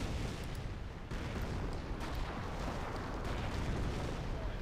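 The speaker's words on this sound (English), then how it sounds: "Artillery fire there." 25-pounder artillery fire in Company of Heroes, a dense wash of booming blasts and rumble that runs continuously, loud, with a commentator talking over it.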